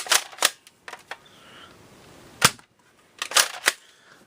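A knockoff Nerf Cycloneshock blaster fires Elite foam darts, giving sharp, loud, close-up snapping pops spaced out across the moment with quiet stretches between shots.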